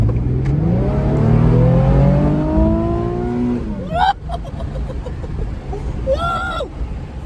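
An Acura Integra at full throttle, its engine revving loudly and climbing in pitch, then a sharp shift and a second rising pull, heard from inside the car.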